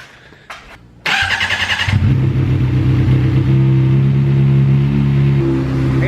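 A motorcycle engine cranks briefly, catches and roars to life, then settles into a loud, steady idle close by.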